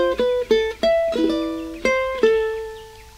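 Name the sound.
ukulele note played on the 4th string, 4th fret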